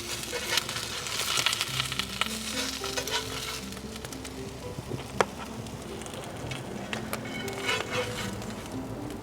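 Sunny-side-up eggs sizzle and spit steadily in a pan, a close, continuous crackle with scattered sharper pops and no talking.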